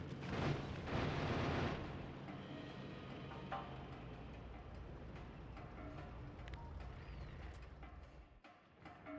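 Uranium ammo firing in Factorio, with a dense burst of explosions at the start followed by a rumbling, crackling barrage of smaller blasts and pops that fades out, fairly faint overall.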